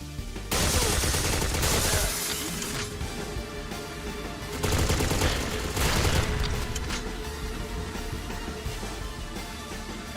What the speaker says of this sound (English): we shoot them as we're walking through